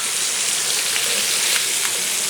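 Celery, carrots and onions fry in oil in a skillet with a loud, dense, steady sizzle and crackle close by, with no voices.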